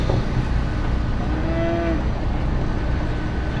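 At a junior market steer show, a steer gives a single drawn-out moo partway through, heard over the steady din of a busy show barn.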